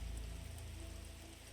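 Steady rain falling on a surface, a dense, even patter with a low rumble, continuous and close throughout.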